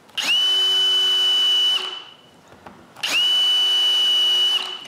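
Power drill boring holes into wood for a laser mount on a homemade CNC machine, two loud whining bursts of about a second and a half each, separated by a short lull.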